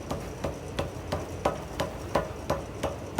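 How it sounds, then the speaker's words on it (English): Steady hammer blows with the flat face on hot forge-welded cable for a knife, about three strikes a second, each a sharp ringing metallic clank close by. "I'm using the flat side of this hammer"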